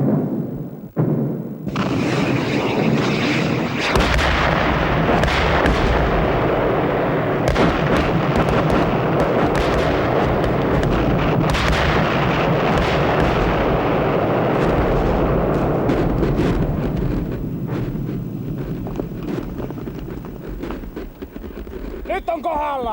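Artillery fire thunders continuously in Finnish wartime combat in August 1944, a dense, loud barrage of booms and blasts, with a voice narrating over it.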